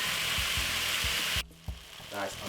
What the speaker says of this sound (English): Nice and lovely, as you can see it's cooking down.